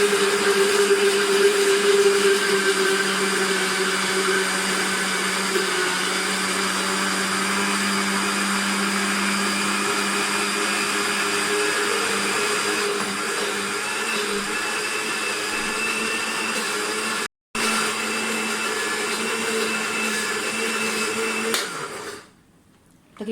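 A blender whirs steadily and loudly while making homemade mayonnaise with oil and black pepper, a constant motor drone for about twenty seconds with one brief cutout near the end before it winds down.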